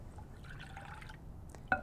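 A cup of whole milk pours into muffin batter in a brief, quiet liquid trickle close by, ending with a small splash.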